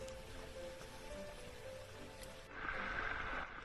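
Heavy rain falling in an Asian jungle, a steady dense hiss of drops that swells louder partway through, with no voices.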